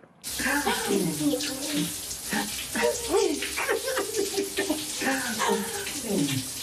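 A shower runs in an advert, a broad rushing spray of water pouring continuously at close range, with a voice speaking over it throughout.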